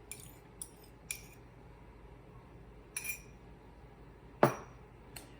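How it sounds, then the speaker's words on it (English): Two eggs cracked against a bowl of homemade brownie mix give sharp, close clinks and taps scattered across the moment, one louder knock standing out, with no talking. "I'm gonna add 2 eggs."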